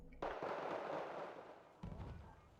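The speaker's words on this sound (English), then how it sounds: "they're firing on them with the Abrams" Abrams tank cannon fire in Wargame: Red Dragon on the Paddy Field map, a sharp blast followed by a fading rumble and a second heavy report near the end, fairly close, with no voices.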